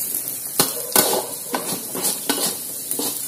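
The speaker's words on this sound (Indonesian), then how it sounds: "Kita masukin daun bawang, kita aduk sebentar." Carrots, green beans and scallions are stirred in a pan with a spatula, giving a series of sharp scraping strokes, roughly one every half second, over a light sizzle, close and with no talk.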